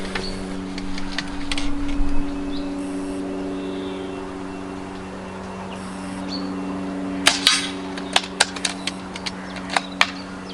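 Several sharp, short cracks from a Daystate Huntsman Regal air rifle firing Match Diablo Exact pellets at targets, spaced irregularly near the end over a steady low mechanical hum.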